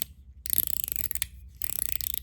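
Gao Candy Rich Coin fidget toy clicking in two quick bursts of rapid, crisp mechanical clicks with a short pause between, close and fairly quiet.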